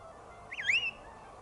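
A wild bird near the caves at Masada gives a single short, rising, whistling call with a slight honking edge, clear and fairly close against quiet outdoor background noise.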